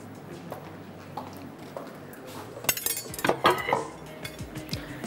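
A mixing bowl is picked up and handled in a home kitchen while chicken curry cooks, giving a short cluster of clinks and knocks midway against quiet room noise.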